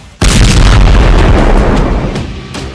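A loud, sustained booming roar of missile defense interceptions shooting down incoming rockets, starting abruptly and rumbling on without voices.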